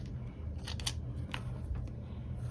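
Several crisp snips of scissors cutting through paper while working on a hobonichi weekly planner, close and fairly quiet over a low background hum.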